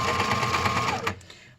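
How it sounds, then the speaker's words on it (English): A sewing machine stitches a face mask, its motor whirring in a fast even rhythm for about a second, then the machine reverses to back stitch and winds down to a stop. "My sewing machine will make noise. I'm going to back stitch here"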